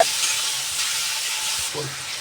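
Tomato and spices roasting in a pan over low to medium gas, giving a steady soft sizzle and frying hiss with faint stirring knocks, no talking.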